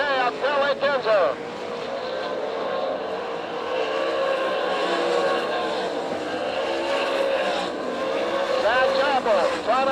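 Sprint cars race on a dirt oval in Tulsa, Oklahoma, in an All Stars versus NCRA event, with loud engines roaring and whining past under continuous race commentary.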